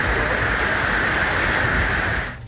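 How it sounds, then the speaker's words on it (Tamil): Heavy summer rain pouring down over a town, a loud, dense, steady roar of falling water that fills the whole stretch before easing off abruptly at the end, with no voices. "கிருஷ்ணகிரி நகர பகுதியில் திடீரென பெய்த கனமழையால் குளிர்ச்சியான சூழல் நிலவியது"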